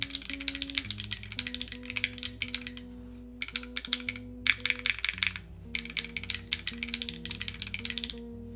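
A newly built Link split ergonomic mechanical keyboard typed on steadily, giving dense runs of clacky keystrokes with brief pauses, close and clear over a faint tonal background.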